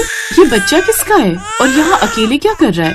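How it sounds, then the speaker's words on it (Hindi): An infant cries loudly in short wailing bursts near a temple, with someone speaking over and between the cries. "तभी अनीता को बाहर किसी बच्चे के रोने की आवाज आई"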